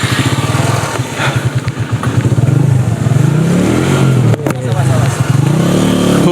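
A motorcycle engine runs loud and close during an elite cycling race on a steep climb, its pulsing low drone rising and falling steadily under continuous commentary.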